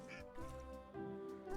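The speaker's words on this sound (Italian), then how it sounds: "Quindi posso dare da mangiare all'anatra?" A cartoon duck in the adventure game Return to Monkey Island quacks a few times in quick, nasal honks, close and clear over quiet game sound.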